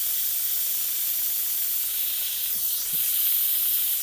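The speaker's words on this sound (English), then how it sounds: "look at that steam go and smell of beef" Continuous loud steam hiss rushes from the pressure-release valve of an Instant Pot 9-in-1 electric pressure cooker cooking beef caldereta, a steady broadband jet that keeps going for the whole stretch without pause.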